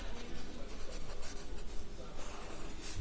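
Pen scratching steadily across paper while a math statement on Cauchy sequences is written out, a continuous close scraping texture with small rhythmic strokes and no talking.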